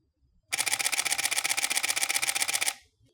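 A Canon 7D Mark II firing a continuous shutter burst with anti-flicker mode enabled, a rapid, evenly spaced run of crisp mechanical clicks lasting about two seconds before stopping abruptly in quiet surroundings.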